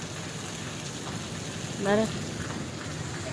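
Steady rain falls on a surface in Hyderabad, a soft continuous patter throughout, with one brief spoken word and a short higher tone near the middle.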